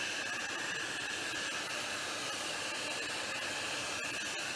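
A fan blows air to push liquid resin across a 3D plate, giving a constant broadband whooshing hiss, steady and close, with no talking.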